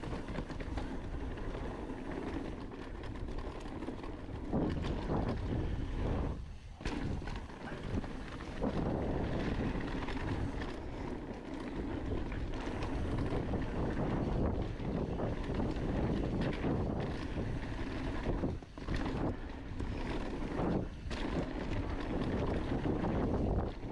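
A mountain bike fitted with a Marzocchi Bomber Z2 fork rattles down a trail run, steady rough rumble and wind buffeting the microphone throughout, with occasional sharper knocks and dips.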